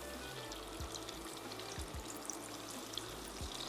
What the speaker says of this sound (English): I'm gonna fry these 2 and then I'm gonna fry 2 guava ones